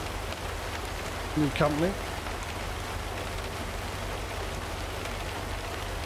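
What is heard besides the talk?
rain in video game American Truck Simulator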